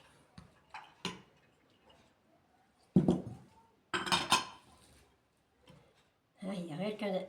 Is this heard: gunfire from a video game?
no